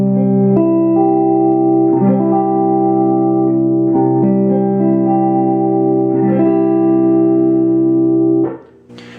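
Electric guitar strums an A-shape barre chord barred at the third fret, heavily effected and distorted, ringing in several loud sustained repeated strums before cutting off.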